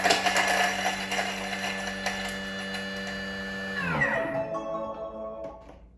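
A Thermomix food processor whirs at speed 8 to chop garlic, a loud, steady high-pitched motor whine lasting about four seconds, then spinning down in a falling glide to quiet.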